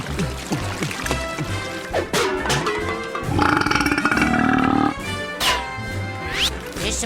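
Water pours in a steady splashing stream for Moose, a cartoon character, set against lively music and other cartoon sound effects for a second or two in the middle.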